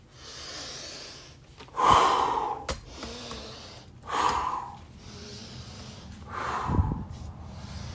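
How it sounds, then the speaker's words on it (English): A person breathes during a lower-back stretch: four heavy, close-up breaths, each a sharp, snorting inhale or exhale, separated by quiet pauses. "A little bit of breathing."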